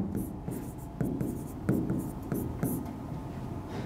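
Chalk or marker writing on a classroom board, a run of short scratchy strokes and taps in a steady, uneven rhythm, close and moderately quiet, with a teacher explaining a maths problem faintly.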